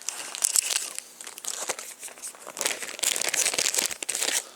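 Plastic bags holding the cards of an adult-life card game crinkle and rustle close by, giving a busy, uneven crackle for several seconds with no talking.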